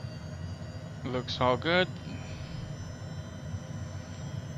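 Honda Jet turbofan engines spooling up toward takeoff power, a steady low broadband roar with a faint high whine running throughout, while a voice speaks briefly over it near the start.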